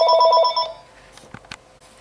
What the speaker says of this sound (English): Okay, interrupted by the phone call.